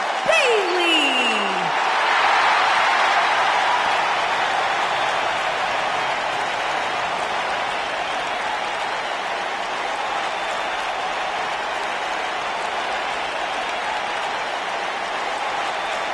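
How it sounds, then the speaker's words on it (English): A wrestling arena crowd applauds and cheers in a sustained, dense roar of clapping and voices that carries on steadily throughout, after a brief sweeping whistle-like tone at the start. "And Michael, it sounds to me like this crowd already picked the one who they want to win this match."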